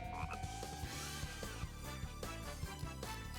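A frog croaks in the Sonic Adventure video game, repeated rhythmic croaks set against dense, loud game music and effects that fill the whole stretch.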